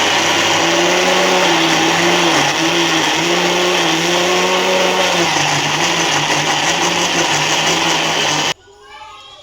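A blender grinds ginger and garlic into paste for freezing, a loud, steady whirring drone with a wavering motor pitch that cuts off abruptly near the end.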